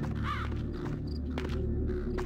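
One loud, close caw from a crow in a video game, followed by softer clicks and shuffles over a steady low background drone.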